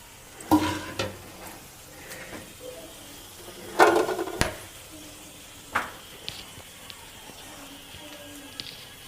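Bay leaf, cardamom and whole garam masala spices are dropped into hot oil for a mutton curry. A soft steady sizzle is broken by a few louder bursts of spattering and stirring clatter, close by.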